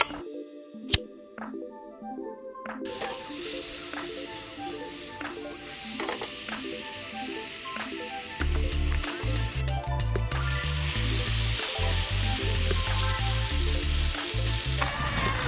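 Scottish ribeye steaks cooking over a wild-camping fire, sizzling and crackling loudly and steadily, with scattered sharp pops and ticks, growing louder and denser partway through, no talking.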